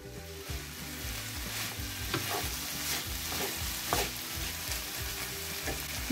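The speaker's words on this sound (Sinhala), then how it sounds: "දැන් මම මේ වෙලාවේ බෙල් පෙපර් ටික එකතු කරගන්නවා." Bell peppers are being stir-fried for pineapple fried rice. They sizzle steadily in a hot pan while a utensil scrapes and stirs in a quick, repeated rhythm, close up and without talk.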